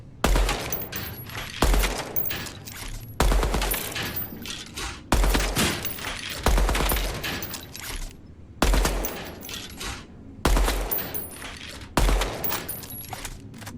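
Bursts of automatic gunfire at a firing range in the video game Deadrop, sharp and loud, repeating in short volleys separated by brief gaps across the whole stretch.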